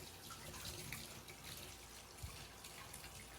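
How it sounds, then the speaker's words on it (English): Steady water runs from a tap as beaded embroidery is rinsed under it, a constant close splashing flow that stays even throughout, with no talking. "now I'm just gonna run this in the water and then let this like all dissolve"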